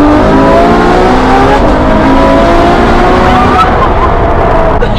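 A roaring 800 hp Ferrari engine climbs steadily in pitch while driving, loud and continuous throughout, with a brief dip and shift partway through.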